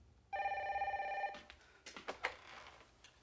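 A telephone bell rings once with a steady, close electronic tone for about a second, then cuts off. Soft handling clicks and rustles follow as the receiver is picked up.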